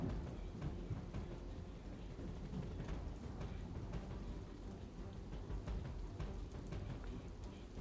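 Heavy rain pours over Navsari amid waterlogging, a dense continuous hiss of rainfall with scattered drops striking surfaces, steady and fairly faint with no voices.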